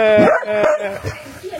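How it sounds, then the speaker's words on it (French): Samoyed sled dogs barking and yipping in a short close burst, with harmonic, slightly whiny barks over background activity and a voice mixed in. "Donc ce sont des samoyèdes, des chiens de traîneau"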